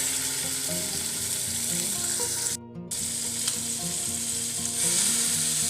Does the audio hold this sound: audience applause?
no